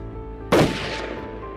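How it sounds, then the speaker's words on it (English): A single sharp gunshot during a bear hunt in Yakutia, a sudden loud crack with a short decaying tail against quiet outdoor background. "Shots."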